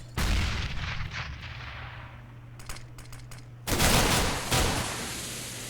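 Gunfire in a Counter-Strike match on the Inferno map, with bursts of shots over a steady low hum, a quieter stretch, then louder sustained firing near the end, with no talk.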